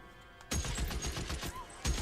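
Rapid gunfire from a shootout in the crime video game LA Noire, a dense burst of repeated shots starting abruptly after a quiet moment and continuing loudly with a fresh volley near the end.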